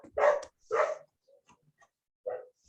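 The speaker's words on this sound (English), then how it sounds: "Dog is still there." A dog barks three times nearby, two quick barks close together and then one more after a pause, loud and distinct against a quiet background with no talking.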